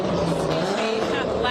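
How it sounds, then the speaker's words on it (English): Loud cars rushing past close by on a street, a continuous roaring engine and tire wash that swells and fades over a second and a half with no break. "Loud cars going by, excuse me."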